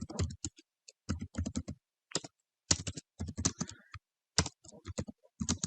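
Computer keyboard keys clatter in quick bursts of typing separated by short pauses, crisp and close, with no talking over them.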